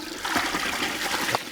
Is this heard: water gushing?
yes